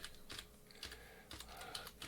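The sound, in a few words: typing on a computer keyboard connected to HP ESA-L1500A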